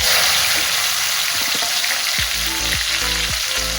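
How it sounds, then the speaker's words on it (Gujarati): Mustard seeds, cumin and asafoetida hit hot oil in a pan for a bitter gourd dish, making a loud, constant close sizzle with a few short scraping stirs near the end and no talking. "તેમાં થોડી રાઈ, જીરું અને હિંગ નાખી અને આપણે શાકનો વઘાર કરીશું"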